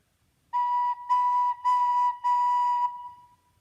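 A recorder plays the note B with soft, slow, smooth breath: four sustained, even tones in a row, separated by brief gaps, clear and close with nothing else around them.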